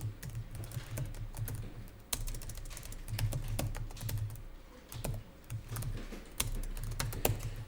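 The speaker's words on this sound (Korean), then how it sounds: "거기에다가 적요 내용을 그대로 타자하면 돼요" Rapid, irregular keystrokes on a computer keyboard while entering text into accounting software, close and clear, with brief pauses between bursts of typing.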